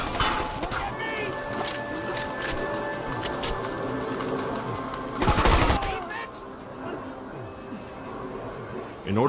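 Video game gunfire during a squad firefight in a casino room, a dense continuous rattle of automatic shots with a louder burst near the middle, with voices talking over it.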